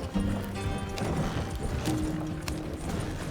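Horses haul a wagon in Red Dead Redemption 2, their hooves clip-clopping in a steady, close rhythm over a continuous rolling rumble, with a brief whinny-like tone and no one talking.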